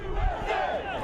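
A large crowd at a patriotic gathering chanting in unison, a brief, loud, swelling roar of many voices heard from a distance.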